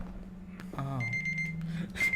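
An alarm-clock style timer beeps with a steady high electronic tone, joined by a sliding game sound effect and low background hum, clear and close.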